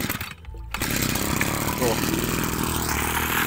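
A TU26 mini engine running an axial blower water pump, buzzing like a small two-stroke with a loud, continuous high-revving whine after a brief dip near the start, while someone talks over it.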